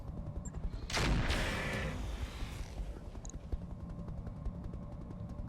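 Mech weapon fire in the game Roguetech: one loud blast swells into a rumbling roar lasting about a second, then fades under a steady mechanical hum and scattered small clicks.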